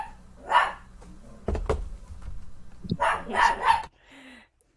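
A dog barks a few times, sharp close yaps in short bursts separated by a thud and faint background noise, with a person briefly speaking.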